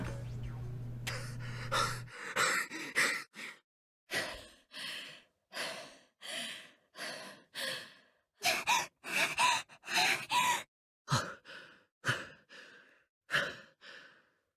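A character in the game 999: Nine Hours, Nine Persons, Nine Doors pants heavily in loud, rhythmic breathy gasps, about a dozen close exhales broken by short pauses, with no talk.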